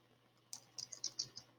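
Keys tapped in a short burst of about six crisp clicks on a computer keyboard, quick and close, with no talking in a quiet room.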